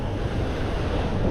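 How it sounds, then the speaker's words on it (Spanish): Sea waves at Playa Mamitas beach in Playa del Carmen on a cloudy day with a choppy sea, heard as a steady, loud, close surf wash mixed with wind buffeting the microphone, with no voices. "Está un poquito más movido el mar"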